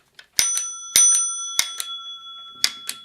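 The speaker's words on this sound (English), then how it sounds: "it's got the bell on the bottom" The bell on the bottom of a Wayne Neyens pinball machine rings several times, with sharp metallic strikes that each leave a bright sustained ring, some struck in quick pairs, loud and close with no talk.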